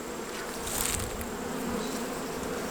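Honey bees buzzing steadily during a November hive inspection of a colony with a laying queen, a close, continuous drone that swells briefly before settling back.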